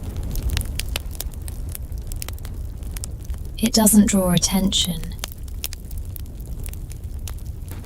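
A soft cabin hearth fire crackles with scattered sharp pops and ticks over a low background, continuing steadily while a voice speaks briefly over it.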